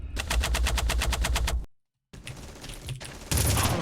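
Rapid automatic gunfire in the PC shooter Red Faction, a loud steady rattle of evenly spaced shots that cuts out to a brief silence, then returns as denser, harsher bursts of fire and impacts.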